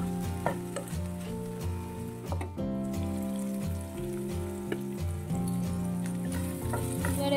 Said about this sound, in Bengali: এখন একটু আলু আর কুমড়ো ভাজা করছি